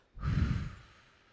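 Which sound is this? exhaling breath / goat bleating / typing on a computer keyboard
exhaling breath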